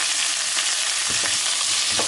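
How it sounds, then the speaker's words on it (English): Cabbage frying in a pan gives off a steady, close, dense sizzle with a few soft stirring scrapes and no voices. "I'm using one hand to fry my cabbage"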